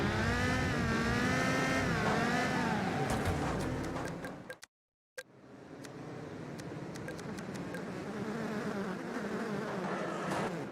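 Race cars in Wreckfest at the virtual Standlake Arena give a continuous buzzing engine whine that cuts out briefly near the middle, then returns with several cars droning together at moderate volume.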